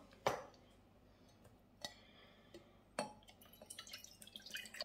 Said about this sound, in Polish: Do takiej dużej miski dodam sobie teraz pozostałe składniki. Pół szklanki sosu sojowego.